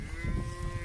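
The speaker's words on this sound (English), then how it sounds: "calves and cows all seem to be accounted for" Cows and calves on a farm let out a low, droning moo, heard close and sustained for under a second over a faint rumble.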